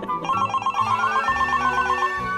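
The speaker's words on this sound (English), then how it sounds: "That's your phone, not mine." A mobile phone rings with a bright, melodic electronic ringtone that plays continuously and loudly nearby, a repeating tune with no talk over it.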